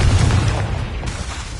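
In Hogwarts Legacy, a Confringo blasting curse bursts into a single loud, deep explosion that rumbles and slowly fades over a second or so.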